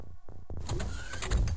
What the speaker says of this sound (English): UFO door.